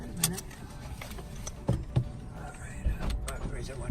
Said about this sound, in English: I'm gonna raise the window up.